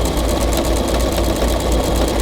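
Sewing machine stitching strips of patchwork fabric for a Seminole-style runner, a loud continuous rapid mechanical whirring with fast regular clatter, close and steady throughout, no talk.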